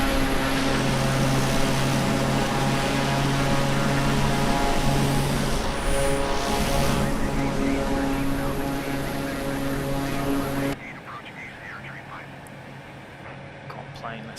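A simulated aircraft engine drones steadily and loudly while the plane climbs in Microsoft Flight Simulator, a constant propeller-like hum with tonal whine that drops to a quieter cockpit rumble near the end.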